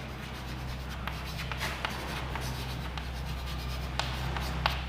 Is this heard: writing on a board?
yes